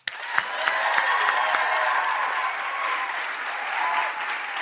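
A church audience breaks into loud, sustained applause to welcome Joyce Meyer, dense clapping and a few cheers filling the room from start to finish.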